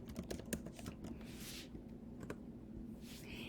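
Quiet, rapid keystrokes on a Mac keyboard as a new file name is typed, a close flurry of light taps followed by a few isolated presses and soft clicks.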